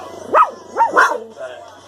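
A protective pet dog named Smitty barks in three sharp, close bursts, each a loud yap with a falling tail, spaced about half a second apart, with a faint background hum between them.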